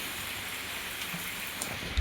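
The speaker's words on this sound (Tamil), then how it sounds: "செம மழை கைஸ்." Heavy rain falls in a steady, dense wash of hiss with scattered nearby drops and taps, constant and fairly loud with no talking.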